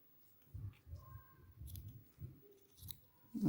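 Scissors snip loose crochet yarn threads from a crocheted geranium flower: a close, quiet series of about seven crisp cuts at a fairly even rhythm, with a louder rustle at the end.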